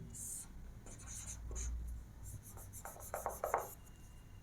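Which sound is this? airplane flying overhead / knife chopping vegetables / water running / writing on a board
writing on a board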